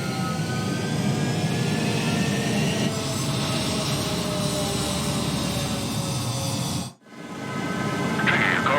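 Jet fighters taking off from a runway in a combat flight video game: a loud, continuous jet engine roar that holds steady, drops out briefly near the end, then returns.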